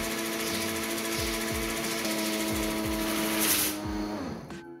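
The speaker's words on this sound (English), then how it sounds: "I decided to give it one last test at 150 darts per second before moving on" A homemade Nerf dart blaster test-fired at 150 darts per second, a steady loud mechanical whir with rapid rattling and periodic low thumps, ending in a brief high burst before winding down.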